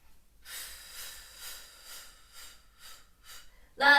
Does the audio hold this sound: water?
no